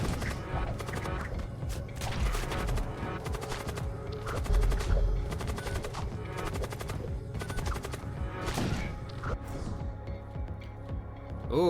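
Weapons fire nonstop in the sci-fi video game Void War, with dense, rapid bursts of shots and impacts layered over a continuous loud background.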